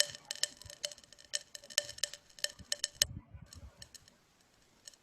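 Lead nitrate heated in a test tube crackles with a rapid string of sharp, close popping clicks that thin out and fade into quiet near the end; no one speaks.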